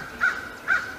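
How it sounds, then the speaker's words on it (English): Two harsh caws from a crow come in quick succession, close and distinct over faint outdoor ambience. "Oh, hush, Mr. Bird."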